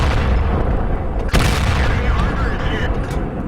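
Heavy video game gunfire blasts in a sustained burst, loud and close, with one sharp boom standing out amid the rolling shots.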